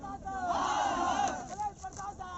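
A crowd shouting and yelling together during a police riot-control drill, a loud sustained roar of voices that swells and then breaks into scattered cries.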